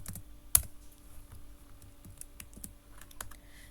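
Rapid, irregular keystrokes on a computer keyboard while writing HTML, CSS and JavaScript code, close and quiet, with one sharper clack near the start and no talking.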